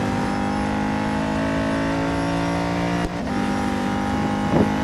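Chevrolet Camaro GT4.R race car in the Real Racing 3 game at Catalunya, engine droning steadily at high revs through the run, with a brief dip in pitch partway through and a short accent near the end.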